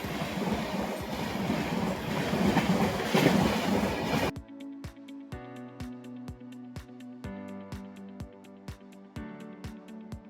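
The Teesta Torsa Express on an Indian rail route near Malda runs by with heavy, loud wheel rumble, then gives way to a steady, rhythmic clickety-clack of wheels over rail joints as the carriage rolls on.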